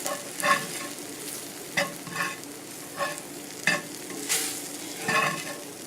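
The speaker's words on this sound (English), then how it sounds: "I'm going to brown this flour" Flour browns over onions in a hot oiled pan, a steady sizzle broken by regular scraping stirs, close and fairly loud with no voices.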